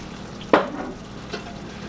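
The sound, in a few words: stirring sauce with Worcestershire in a pan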